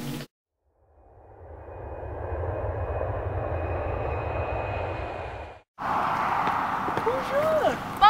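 A French passenger airliner on the ground, with the steady loud roar of its engines building and holding for several seconds. Then it cuts off abruptly and a busier, brighter sound follows.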